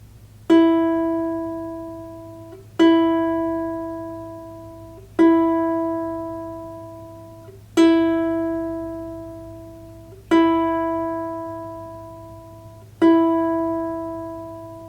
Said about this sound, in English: Next is the E string. It should sound like this.